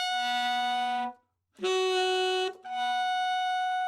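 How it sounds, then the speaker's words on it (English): High altissimo G sharp notes on an alto or tenor saxophone, played as three sustained, bright, reedy tones with brief breaks between them, loud and close, with no talk. "that altissimo G sharp"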